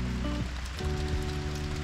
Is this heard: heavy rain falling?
yes